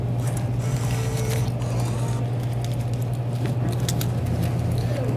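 Vending machine with a CPI Talos bill recycler dispensing a Monster energy drink can, a steady motor hum with scattered clicks and light rattling close by, moderately loud.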